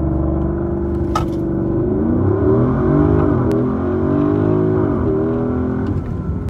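A Porsche Cayenne launches hard under launch control, its engine note climbing steadily in pitch and loudness through the gears with brief dips at each shift, close and continuous for several seconds.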